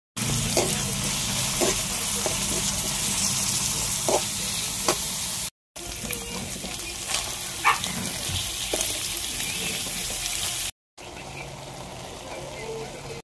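Chayote with ground pork, onion and garlic sizzles steadily in a pan, with occasional scraping stirs, across a few cuts and with a voice speaking nearby.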